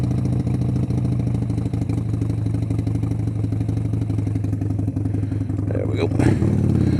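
A motorcycle engine idles steadily and close by while its manual idle control knob is turned down a couple of notches, with a brief clatter and a slight shift in tone near the end; a voice talks over it.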